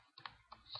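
Keys tapped on a computer keyboard while entering a student ID into a Microsoft Access 2013 form, a few quick close clicks in a quiet room.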